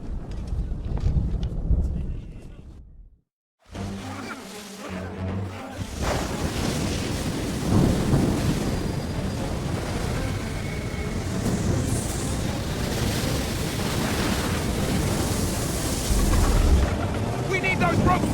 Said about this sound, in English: You wish us to sail into the storm?